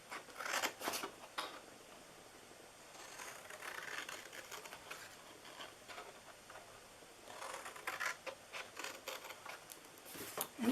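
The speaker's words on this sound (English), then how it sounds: "All right, so we're cutting those 4 off." Scissors snip through cardstock pieces for a handmade fall box, a series of short crisp cuts in clusters with quiet pauses between, close and fairly soft, with no talking.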